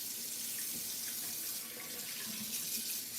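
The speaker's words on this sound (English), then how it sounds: "So now I have to wash my fingers." Water runs steadily from a bathroom tap as fingers are rinsed off during a make-up routine, a continuous close splashing hiss that stays even throughout with no voices.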